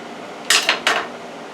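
A knife slicing lengthwise down the peel of a plantain, giving two short, crisp scraping strokes up close with no talking.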